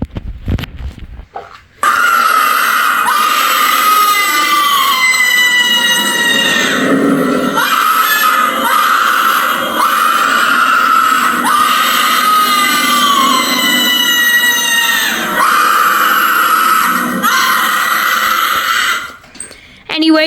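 Twisting Banshee Halloween animatronic from Seasonal Visions International running its demo, a loud, sustained, wavering electronic scream lasting many seconds after a short startup click, close and alone.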